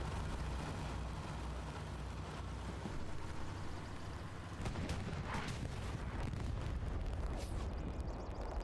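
Heavy tank cannon blasts and rumbling explosions from a Hell Let Loose tank battle, a dense low boom and roar running throughout, with sharper impacts bursting out past the midpoint.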